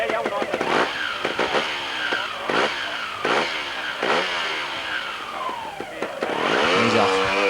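A trials motorcycle engine at a Trials World Championship round in Osnabruck, Germany, revving in sharp repeated blips that rise and fall, loud and close, as the rider pulls away, with a voice talking over it.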